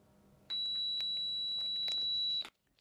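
A quiz-show buzzer pressed by competing teams gives one steady, high electronic tone lasting about two seconds, loud and alone with no talk.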